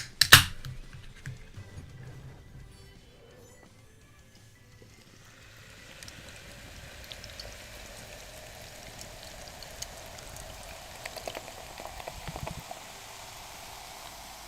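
Carbonated sparkling watermelon water is poured into a glass, a steady soft fizzing hiss that builds and continues with faint crackling bubbles, close and quiet, with no one talking.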